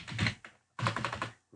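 Quick clatter of computer keyboard typing, close keystrokes in two short bursts separated by a brief pause.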